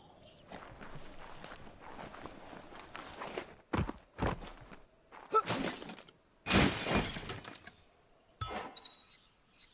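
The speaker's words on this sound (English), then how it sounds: "You shouldn't worry about smashing up the box" A wooden box gets smashed apart in the video game Biomutant: several sharp cracking, splintering bursts land in quick uneven succession, loud and close, between quieter stretches of footsteps and rustle.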